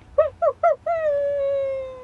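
A dog howl played as a sound effect coming from a tree: three short rising yips, then one long, sustained, slowly falling howl, clear and close with nothing else around it.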